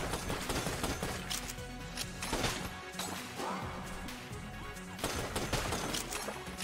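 Super Transaction Gun fires in Enter the Gungeon, a dense stream of crashing shots and impacts layered over game music, sustained and fairly busy, with heavier bursts recurring every couple of seconds.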